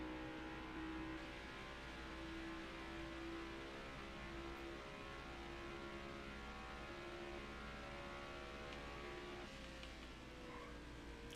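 Stock cars in NASCAR Heat 5 drone around Pocono in a dense, continuous engine roar, several motors blending into a steady high-pitched whine with no break or talk.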